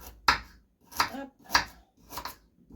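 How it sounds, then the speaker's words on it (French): Carrots being chopped on a cutting board for soup, four distinct knife strikes in a steady rhythm, close and clear with brief silences between. "On coupe les carottes."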